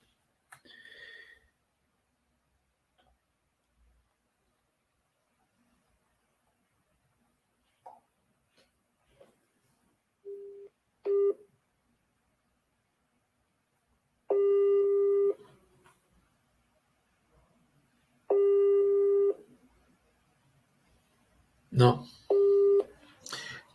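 A telephone busy signal sounds during a failed WhatsApp call attempt: short separated tone bursts, each steady and evenly pitched, spaced several seconds apart amid near silence, with a few brief clicks and noises around them.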